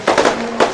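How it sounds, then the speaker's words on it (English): Fireworks burst at a Southeast Asia Drift Series motorsport event in the Philippines in 2024: a quick cluster of three crackling pops, then a pause and one more burst. They sound moderately loud and fairly close, with a faint steady tone in between. "we're going to say goodbye while we're seeing these beautiful fireworks"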